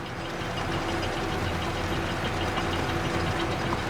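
Steady, unbroken drone of a smaller tractor engine pulling along in Farming Simulator 22, a constant low hum with faint knocking that holds the same level throughout, with no voices.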